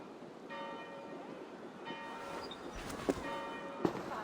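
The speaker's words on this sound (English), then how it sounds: "Do you not hear the bells?" Church bells ring out in an abbey setting in Assassin's Creed Valhalla, a few resonant tolls sounding at moderate distance over a faint ambient background, with a couple of sharp knocks near the end.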